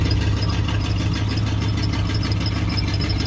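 A warm carbureted engine idles just after firing up, a steady loud rumble with a fast, even ticking pulse and a faint high whine, close by with no voices.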